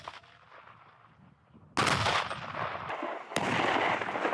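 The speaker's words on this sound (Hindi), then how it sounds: "कुछ अपनी राइफल से ताबड़तोड़ गोलियां बरसाते नजर आए" Soldiers fire rifles in rapid succession during a cold-weather military training exercise, two sharp loud bursts of gunfire erupting over quieter background noise, each followed by sustained crackling echo.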